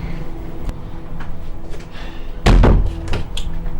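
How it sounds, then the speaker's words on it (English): A door slams shut with a single loud, close thud, followed by lighter clicks and knocks as it is locked, in a quiet indoor room. "Lock the door, please."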